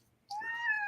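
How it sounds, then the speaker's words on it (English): A single drawn-out cat meow rises after a short quiet moment, close and clear with a steady, slightly wavering pitch and nobody talking. "I would say this kitty's going to go crazy on me."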